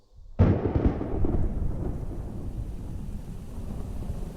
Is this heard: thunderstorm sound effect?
yes